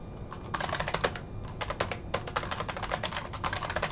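Rapid typing on a computer keyboard, close and clear, in uneven bursts of clicking keystrokes with brief pauses between runs, no voices.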